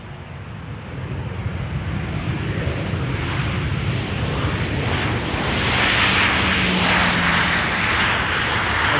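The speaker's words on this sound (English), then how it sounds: "KLM flight 1042 also over here, touching down, arriving from Birmingham" A KLM Boeing 737 arriving from Birmingham touches down at Amsterdam Schiphol, a loud continuous jet roar and rushing wind that builds and broadens as the airliner passes close by.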